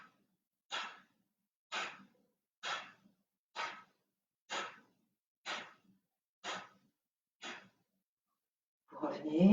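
Eight short, soft, close breaths at an even pace of about one per second during a pranayama breathing exercise, with silence between them; a voice starts speaking at the very end.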